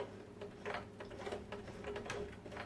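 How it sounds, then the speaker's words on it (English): A domestic sewing machine turned slowly by its hand wheel while making scrunchies, giving faint, close mechanical ticking and soft whirring clicks in an uneven rhythm, with no voices. "I'm going to turn my handle, lift the foot, take a stitch"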